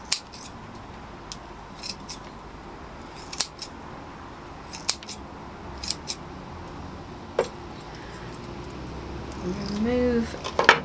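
Scissors snip repeatedly through the roots of a hornbeam bonsai during repotting, a series of sharp, crisp clicks spaced irregularly over a faint background hiss, with a brief soft voice near the end.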